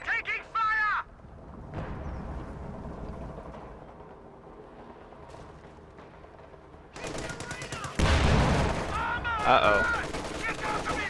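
Bursts of gunfire crackle through a battle in a World War II strategy video game, with rapid machine-gun rattles and scattered shots growing denser toward the end, a brief voice heard early on.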